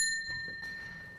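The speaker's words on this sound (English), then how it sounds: "I could use the bell as the indicator for the end of a turn" A small bell, used to mark the end of a turn in a magic effect, gives one bright ring that fades over about a second, close and alone.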